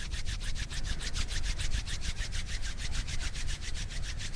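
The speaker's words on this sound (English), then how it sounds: "Bringing your palms together, rubbing them together, generating heat." Palms rubbed briskly together to build heat during a yoga class, a steady run of rapid swishing strokes, close and alone with no talk.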